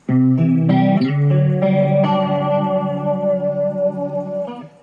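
An Ibanez CS9 chorus pedal on guitar, its speed knob being turned, gives sustained chords a lush, shimmering warble that swells and wavers for almost five seconds, loud and alone before it trails off.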